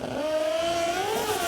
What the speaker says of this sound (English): we heard the rev limiter